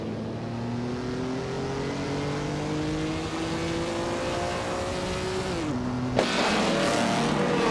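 Vintage racing cars, including a 1953 Cooper T23, accelerate off the starting line in a racing game, engine notes climbing steadily before a gear change and a sudden louder burst near the end, continuous and close with no voices.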